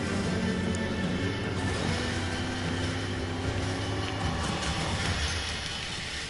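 A train rolls along its tracks in the video game Uncharted: The Lost Legacy, a steady, loud rumble with a low mechanical drone running throughout and no voices over it.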